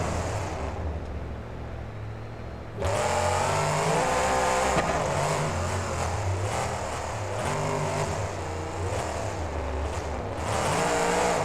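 Mopar-powered monster truck engine in BeamNG roaring steadily and loud, jumping up in intensity after a quieter start and holding a sustained, revving drone with slight pitch swings throughout.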